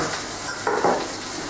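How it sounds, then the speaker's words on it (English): Vegetables get stirred through a little hot oil in a pan for a tamarind and chilli stir fry: a soft, steady sizzle with a couple of scraping stirs, close by and without talk. "I'm just going to stir the veggies through just to make sure that they do get coated in that little bit of oil"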